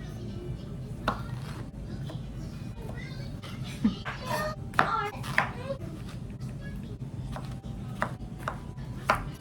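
A knife chops an onion on a cutting board with a string of sharp, irregular taps close by, over a steady background hum with faint household sounds.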